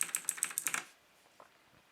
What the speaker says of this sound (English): Let's see what happens when we press or type on the keyboard.